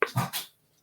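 A pet dog gives a short, close whimpering yelp, two quick whiny bursts lasting under half a second, then silence.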